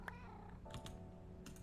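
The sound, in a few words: cats meowing, from video game Minecraft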